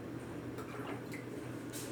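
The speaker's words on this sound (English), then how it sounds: "We are going to finish pouring the vinegar in the egg cover" Vinegar is poured over an egg, a faint, close liquid trickle with soft drips and splashes lasting about two seconds.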